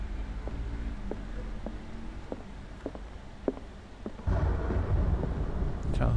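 Thunder in the Call of Cthulhu video game, a low rumble that swells suddenly and loudly about two-thirds through, over ongoing rain-like noise with scattered small clicks.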